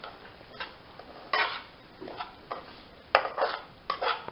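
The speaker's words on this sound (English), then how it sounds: "we will continue mixing them" A spoon scrapes and stirs sooji halwa in a pan over a lowered flame, producing soft repeated scraping swishes and light clinks in an uneven rhythm, close and fairly quiet.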